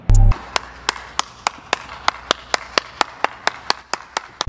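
Steady, evenly spaced hand claps, about sixteen in a row and fairly close, follow a short loud thump at the start, during a light-hearted talk show about the Adipurush film's costumes; no one speaks.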